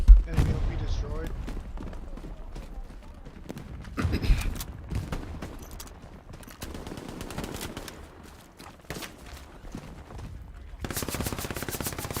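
Tommy gun submachine gun fire in a World War II shooter game, bursts of rapid shots scattered over a busy battlefield mix, loudest near the start and around four seconds, with voices talking throughout.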